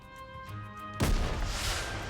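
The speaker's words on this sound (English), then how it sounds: "a shell flies from the rocket launcher" A rocket launcher fires a shell in a fantasy video game, a sudden loud burst at about the one-second mark that breaks over a quieter tonal game backdrop and leaves a rushing, sustained blast trailing after it.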